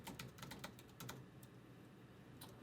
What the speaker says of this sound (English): I'll type it into the computer